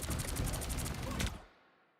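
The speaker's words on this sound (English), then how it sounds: "Mind the exploding plasma!" Plasma blasts burst in a rapid crackling volley during a hero shooter match, loud and dense for over a second before cutting off into quiet.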